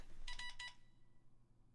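A short burst of bright electronic phone tones, three quick beeps close together, chimes loudly from a phone not set to silent, then fades into quiet room hiss.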